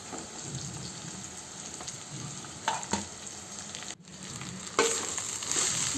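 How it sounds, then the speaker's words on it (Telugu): Cooked rice is stirred with salt in a hot pan, a continuous close sizzle with occasional scraping stirs, and no talking. "రైస్ కూడా వేసుకొని బాగా మిక్స్ చేసుకోవాలి ఫ్రెండ్స్"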